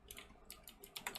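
Fingers tap out a short, irregular run of crisp keystrokes on a computer keyboard, faint and close, with small pauses between clusters of clicks and no voices.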